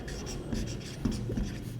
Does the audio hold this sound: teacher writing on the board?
yes